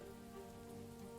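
Steady rain falling on a surface, a soft continuous patter of drops at low level, even and unbroken throughout, with no voices.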